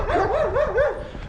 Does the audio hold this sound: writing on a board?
no